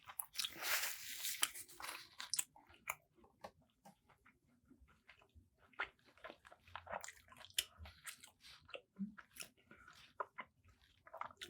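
Close-up biting and crunchy chewing on a messy BBQ beef rib at a halal barbecue restaurant, with a loud crunch at the start followed by repeated wet chewing and smacking sounds.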